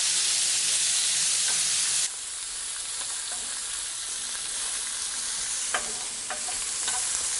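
Onion and garlic cooking in a hot pan, a loud steady frying hiss that eases slightly after a couple of seconds, with a few short scrapes and taps of stirring, close and continuous.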